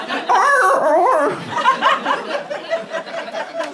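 A comedian on stage imitates a whimpering dog with his voice, producing high, wavering whines and yips that trail into softer whimpers.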